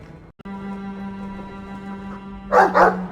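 A dog in the video game Dragon Age 2 gives two quick, close barks near the end, following a steady low droning game ambience with no talk.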